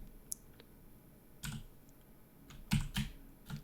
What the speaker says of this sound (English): I hope you're enjoying my mechanical keyboard.